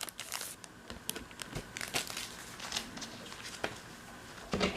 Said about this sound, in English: And then just slide the cards out.